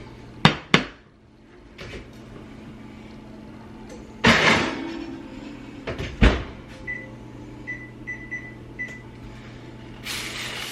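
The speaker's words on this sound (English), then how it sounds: "Now I'm going to put it back in the oven." An oven door bangs and a dish clatters as a feta-topped dish goes back into a home kitchen oven: two sharp knocks, then a scraping slide and a thud, followed by a few short beeps.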